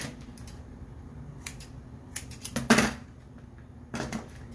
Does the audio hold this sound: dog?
no